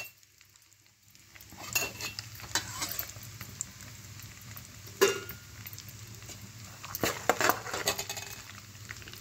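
Garlic tossed into hot oil in a pan for poha chevda, sizzling steadily after a moment of quiet, with intermittent scrapes and clinks of a spoon stirring against the pan.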